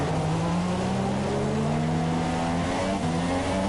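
Formula 2 race cars at the Malaysian Grand Prix roar through the first corner in second gear, a loud, continuous engine drone with pitch slowly shifting as several cars pass close together.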